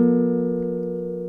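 Acoustic guitar notes fretted on the A and D strings ringing out together as a single sustained, clean chord that slowly decays, heard alone.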